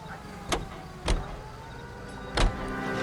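Three quick thumps ring out inside a car in LA Noire, a door or body knock among them, over a steady low rumble from the vehicle, spaced about a second apart.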